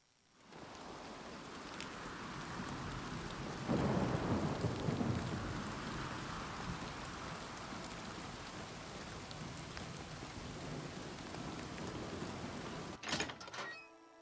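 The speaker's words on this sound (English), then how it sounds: "That was some lightning." Thunderstorm in Oblivion Remastered: steady heavy rain pours throughout, with a deep rumble of thunder swelling early on and a sharp, close thunder crack near the end.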